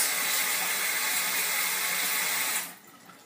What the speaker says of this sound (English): once you roll, you're just gonna rinse with warm water